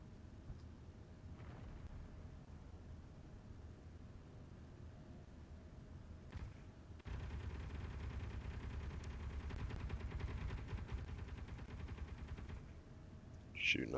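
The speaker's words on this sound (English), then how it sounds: "Shooting up some meteors like a boss." Turret gunfire shooting at meteors in the video game Space Engineers, a faint steady rattle that jumps into a louder sustained burst midway and ends with a sharp high blip.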